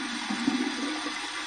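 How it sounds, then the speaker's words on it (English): Running water from a tap pours steadily for a cold rinse during a wet shave, a continuous mid-level hiss and splash with a slight swell partway through and no talking. "We're going to flip it to the cold water side, and I'm going to do my cold water rinse."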